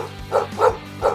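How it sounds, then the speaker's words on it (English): A big dog barks three times from the next room, the deep woofs spaced about a third of a second apart over a low steady hum. "hear a dog barking from the room next to mine"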